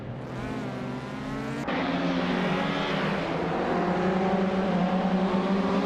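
A 1994 Opel Astra race car's engine revs high and steady in a racing game, its harmonic whine shifting pitch with an abrupt gear change, loud and close with no talking.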